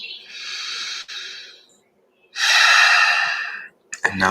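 During a guided breathing exercise, a person takes two long, close, airy breaths separated by a short silence, followed by a brief rough burst at the end.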